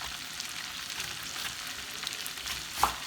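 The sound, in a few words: onions frying in a pot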